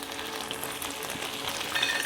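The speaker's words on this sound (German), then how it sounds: "das brutzelt schon" Potatoes for Schmuttkartoffeln fry in a pan with salt and pepper, giving off a soft, steady crackling sizzle, quiet and continuous throughout.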